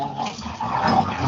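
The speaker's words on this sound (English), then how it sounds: "If you hear the zombie growling" A low, rough growl with whimpering, dog-like edges, standing in for a zombie during a tabletop role-playing game session, close and fairly loud for a brief moment.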